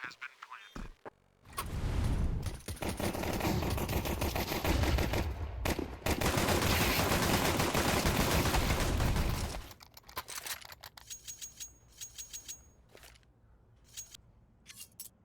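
Dense rapid pistol gunfire from a Counter-Strike match on Mirage, heavy and continuous for several seconds before thinning into scattered lighter clicks and shots, with a commentator talking throughout.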